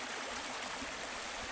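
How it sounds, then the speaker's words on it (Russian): A full spring river rushes past in a continuous broadband roar of flowing water, steady and fairly near, with no voices. "Полным ходом. Полноводная река."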